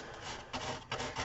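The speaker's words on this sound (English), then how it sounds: "I might just see if I can sand it off just a tiny little bit" Sandpaper rubbed over distressed paint on a wooden windmill sign, a close dry rasping scrape with two short stronger strokes.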